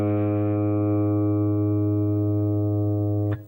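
An electric guitar's open A string, tuned down a half step, sounds one loud sustained note with strong overtones for over three seconds before it is muted with a brief scratch.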